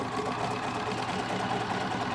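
A sewing machine stitches minky fabric with a longer stitch length, a steady, fast mechanical whirring and rattle running continuously at moderate, close volume.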